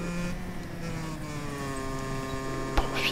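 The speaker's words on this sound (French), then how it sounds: "Du chant des cigales" Cicadas sing in the video game Just Cause 3, a steady buzzing drone with layered tonal hum holding evenly across the clip, with a brief sharp click near the end and no talk.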